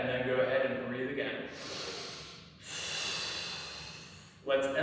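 A person breathing slowly during a hip mobility exercise, a long audible exhale followed by a pause and another breath, close and fairly quiet.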